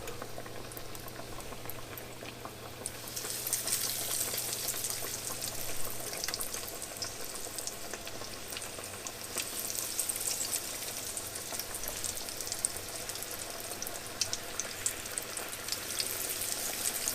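Bacon strips frying in a pan for a BLT salad, a steady close sizzle and crackle that swells after the first few seconds and carries on evenly with faint pops, no voices.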